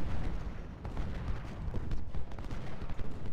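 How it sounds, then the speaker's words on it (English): Civil War artillery guns firing at units in a town during the Gettysburg Culp's Hill battle in the strategy game Ultimate General: Civil War, a dense, continuous rumble of booms and distant cannon fire filling the whole stretch. "Our guns having a little pop at their units in the town"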